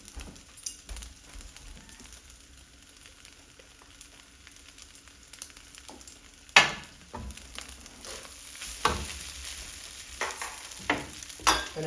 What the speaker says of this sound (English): Give everything a nice toss on this heat.